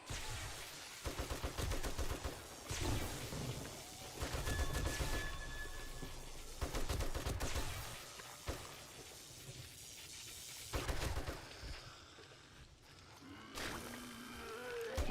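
Bursts of gunfire from the zombie survival video game 7 Days to Die, loud repeated volleys with short gaps between them across the whole stretch, no voice over them.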